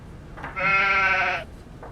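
A sheep, Dolly the cloned sheep, gives a single clear bleat of about a second, up close against a faint background.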